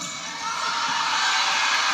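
A volleyball arena crowd at a Stanford–Clemson match cheers steadily, a broad sustained roar of voices and shouts that swells slightly and holds loud throughout, with no single voice standing out.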